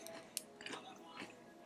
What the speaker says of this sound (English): Hopefully you can't hear the crunching.